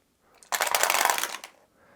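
Action dice for the War of the Ring board game rattle and tumble in one short clattering burst lasting about a second, close and fairly loud, then stop.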